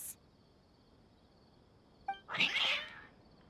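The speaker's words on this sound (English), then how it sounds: "Cats." A single drawn-out cat meow in the Genshin Impact video game, fairly clear against a quiet background, preceded by a short faint chime.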